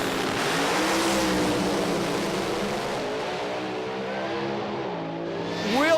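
A Pro Slammer drag racing car roars hard off the line with a sustained, loud engine note, joined by other engine tones and a rising whine near the end.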